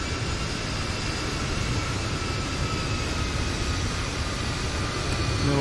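A Fenix A320 airliner rolls for takeoff from Edinburgh in Microsoft Flight Simulator, with a steady, loud engine roar and a broad rushing hum that holds constant throughout, and faint high whining tones running above it.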